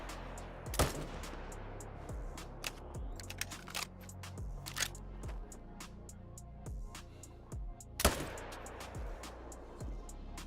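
Rapid gunfire in the hunting game Call of the Wild: repeated sharp shots in irregular bursts with metallic clicks between them, plus two louder close blasts near the start and the end, and no voices.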